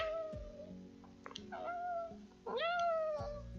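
A human voice imitates a cat's meow, giving a few rising, nasal mews in a row, close and fairly loud, with a steady low hum underneath.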